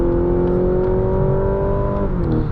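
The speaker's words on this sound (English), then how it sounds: "Nice and quick up to speed there" A 2025 Mazda CX-70 PHEV Premium Plus accelerating in normal mode, heard from inside the cabin: a loud, steady engine drone with rising harmonic tones that climb smoothly, then shift briefly near the end as the pull continues.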